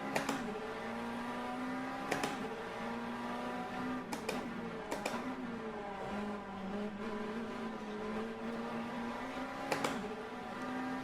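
A racing car in a simulator with a Thrustmaster wheel runs with a steady engine drone that rises and falls, while a few sharp clicks and rumbles mark front wheel lock-up and slip.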